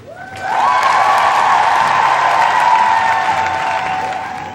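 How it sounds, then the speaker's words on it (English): Canned studio audience applause for a cafe-set show, a dense steady burst of clapping that swells in quickly, holds for about four seconds and starts to taper at the end. "They're just applauding on cue."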